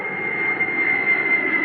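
Steady, loud jet-engine roar from a supertanker firefighting airplane, with a continuous broadband rumble and a sustained high whine holding evenly throughout, close by and alone without voices.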